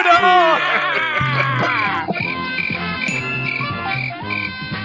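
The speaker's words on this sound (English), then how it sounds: "I hit the cricket sound effect by wrong." A comic cricket sound effect chirps over background music in a game-show setting, the high chirps repeating steadily throughout.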